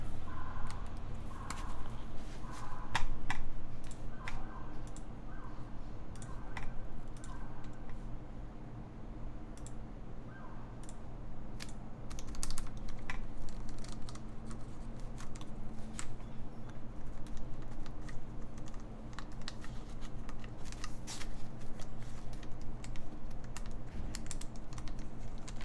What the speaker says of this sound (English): Let's just test the keys.